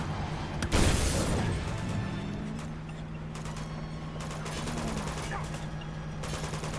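Turret gunfire in the Uncharted 2 video game during a scripted truck chase: a loud burst of shots near the start, then steady mechanical rumble and engine drone with scattered further impacts.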